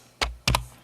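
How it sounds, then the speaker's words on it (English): Computer keyboard typing: three quick, crisp key clicks, one then a close pair, near and distinct over quiet background hum. "I think it'll be faster to type it, so I'm going with typing here."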